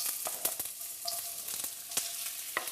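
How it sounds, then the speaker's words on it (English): Onions frying in hot oil make a steady, hissing sizzle with scattered sharp pops and crackles, close and moderately loud with no talk. "we're now going to put the onions in here"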